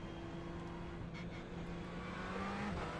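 A Ferrari GT3 race car engine in the iRacing sim at the Barcelona circuit drones loud and close, holding a steady pitch that climbs slightly and then drops off near the end, with no voices over it.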